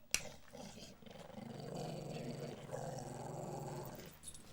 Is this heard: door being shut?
no